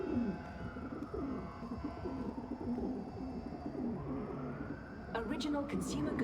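Pigeons coo softly and repeatedly in a video game scene, with a siren-like tone swelling and fading and faint talk beneath.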